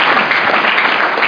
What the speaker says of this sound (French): acclamez très fort le Seigneur